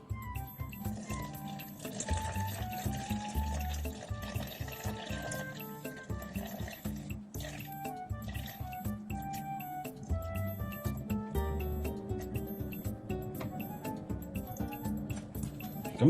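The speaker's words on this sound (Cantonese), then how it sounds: "跟住就加水。" Water poured into a bowl of sourdough starter with flour: continuous trickling and dripping splashes, close and moderately loud, with no talk.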